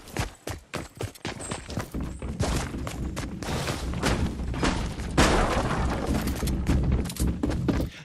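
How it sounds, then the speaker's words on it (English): Enemy footsteps nearby in Fortnite, loud close thumping steps, sharp and distinct at first and then blending into a dense, noisy rush of movement. "But if an enemy's nearby, you'll hear footsteps that sound like this."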